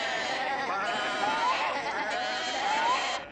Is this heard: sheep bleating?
yes